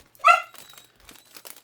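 A dog gives one sharp, loud bark up close, followed by faint rustling and crinkling. No one speaks.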